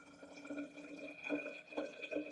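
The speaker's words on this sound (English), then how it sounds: "The spout is good enough for me to just pour it in." Fresh juice poured from a juicer spout into a container: a quiet, steady trickle and gurgle of liquid, faint and close, with a constant background hum underneath.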